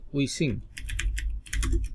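Computer keyboard typing during a Photoshop Christmas card design session, a few quick close key taps in irregular bursts under a voice talking briefly at the start.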